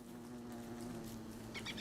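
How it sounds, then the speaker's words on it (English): Bees buzz steadily throughout in the video game Don't Starve, a constant low hum under a few brighter chirps near the end, with no talking. "Down here it looks like... sounds like bees"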